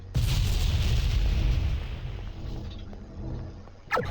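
Weapon fire booms out during an attack in an indie space game: a loud rumbling volley that slowly fades, then one sharp blast near the end, with no talking.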